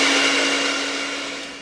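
Electric mixer running steadily while blending chocolate box cake batter with eggs, a loud continuous motor whir with a constant hum that eases off slightly toward the end, no talking.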